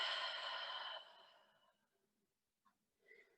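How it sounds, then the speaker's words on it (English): A deep breath during yin yoga breath work, a long, close, breathy exhale that tapers into near silence, followed by a couple of faint breath sounds. "let's take a nice deep inhale in, and then exhale out"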